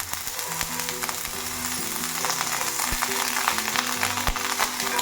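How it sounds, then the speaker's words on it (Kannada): Butter sizzles and fries on a hot tawa for bread masala toast, a steady crackling hiss with scattered small pops throughout, no talking. "ಒಲೆ ಮೇಲೆ ಕಾವಲಿ ಇಟ್ಟಿದ್ದೀನಿ. ಈಗ ಬೆಣ್ಣೆ ಹಾಕೋಣ."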